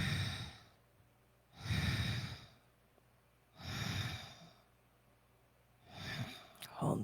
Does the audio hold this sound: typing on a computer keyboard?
no